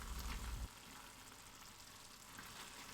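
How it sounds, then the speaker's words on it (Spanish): Tomato sauce and sliced sausage fry in a little oil in a pan, a steady close sizzle with a thick low rumble in the first half second, then an even crackling hiss. "en una sartén con un poquito de aceite vamos a freír un poco de salsa de tomate y un par de minutos después le añadimos la salchicha cortada"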